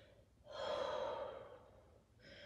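A single long breath during a yoga flow, airy and smooth, swelling then fading, close and quiet, followed by the start of another breath.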